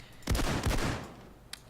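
Gunfire from the Payday 2 heist game, two heavy close shots in quick succession with a rolling tail, followed by a faint, distant crack.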